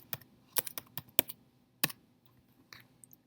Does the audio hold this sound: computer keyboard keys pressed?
yes